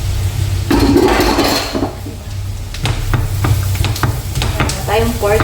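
Pork sizzling in a hot pan for sisig, a loud continuous frying hiss with scraping stirs and clinks of a utensil against the pan, close up.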